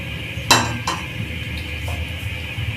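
Chicken being mixed into a creamy marinade in a bowl, with two sharp clinks of a utensil against the bowl early on, then only soft, quiet handling.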